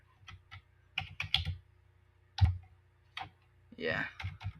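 Quick bursts of typing on a computer keyboard, clusters of close, crisp key clicks separated by pauses, with a voice speaking softly between them.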